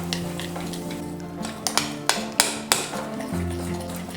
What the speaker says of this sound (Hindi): इनो डालकर हम बिल्कुल अच्छे से मिलाएंगे